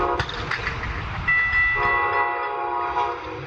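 A Brightline train bears down on a railroad crossing, its horn sounding in long sustained blasts over the rumble of the rails, loud and close, with no voices.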